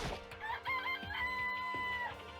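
Chickens in the video game Danganronpa give a few short clucks and a brief rising crow-like call, close and fairly clear over a low ambient game background, with no voices present.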